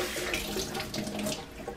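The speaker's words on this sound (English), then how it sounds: "Give leaves a wash" Tap water runs steadily into a sink while fresh bee balm leaves are rinsed under it, a close, continuous splashing hiss with no speech.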